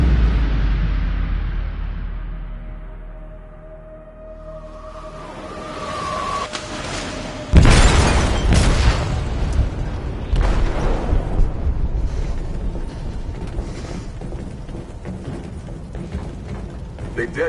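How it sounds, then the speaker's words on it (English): An explosive goes off in a ship's hold in the Detroit video game: a sudden loud boom, followed by heavy rumbling and metallic debris clatter that fades into a sustained low roar. "They detonated an explosive in the hold."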